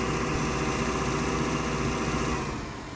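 A farming-simulator tractor pulling a mower idles in a steady, dense, close drone that thins slightly in the last half second, with no talk.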